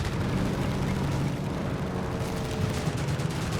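Rocket launchers fire and blast away in Company of Heroes 3, a dense, loud, continuous barrage of explosive whooshes and booms layered over battlefield gunfire, with no clear gaps.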